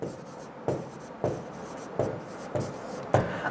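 Chalk or marker strokes on a classroom board during a grammar lesson, six firm scratching bursts in an even rhythm, close and clear with short pauses between them.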